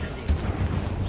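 An Incendio fire spell cast in a wizarding video game, a short punchy burst with a sharp crackling attack and a rumbling low body, over in about a second.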